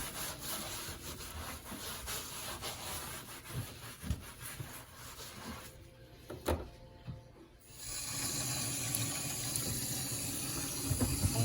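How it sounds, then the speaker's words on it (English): Tap water runs into a sink as pepper is washed off hands, a steady rushing splash with rubbing and handling noises, briefly quieter midway before the flow returns fuller and louder. "I'm gonna wash the pepper off my hands."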